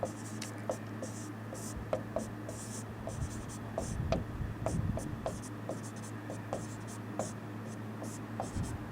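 Pen or chalk strokes scratch out an equation solution in short, rhythmic bursts, fairly close and quiet, with tapping pauses between marks; talk is faint.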